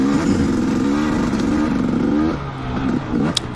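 A 2019 KTM 250XC dirt bike climbing a trail at Prospect OHV, its engine loud and close in a continuous buzzing drone that varies in pitch as the throttle shifts, dipping briefly before picking up again.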